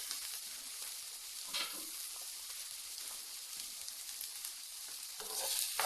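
Chopped carrots and spring onions cook gently in a pan over low heat, giving a soft, even hiss of frying with faint stirring scrapes, quiet and close, no talking.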